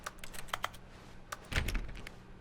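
Keyboard keys clicking in the video game The Stanley Parable: Ultra Deluxe, a short scatter of sharp close taps followed by a fuller, heavier burst of clicks, with no voices.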